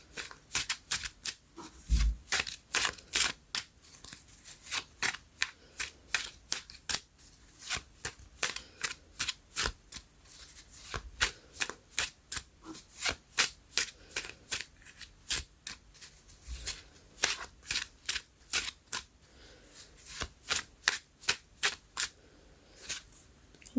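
A homemade deck of cards being shuffled by hand, producing a long run of crisp, rapid riffling bursts and snaps, close and loud, repeating in irregular clusters with brief pauses between them.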